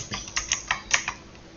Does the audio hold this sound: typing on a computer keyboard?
yes